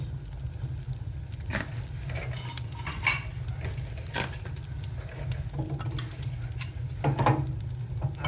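One-inch pieces of oak firewood drop onto a fire grate, landing as several scattered clunks and knocks at irregular moments, close and moderately loud over a steady low rumble.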